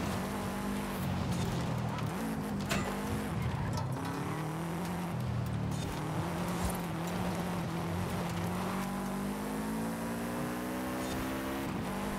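A tuned drift rod in Forza Horizon 5 screams flat out at full throttle, its engine note climbing steadily and loudly through the gears with brief tire squeals, running continuously without speech.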